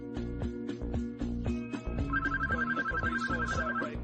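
A telephone rings with an incoming office call, repeated electronic ringtone bursts in a steady rhythm, layered over soft tonal background music, fairly quiet and with no talking.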